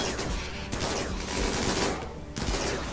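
Dense, sustained gunfire as RimWorld colonists shoot at attacking mechanoids, a loud continuous fusillade of overlapping shots with no pauses.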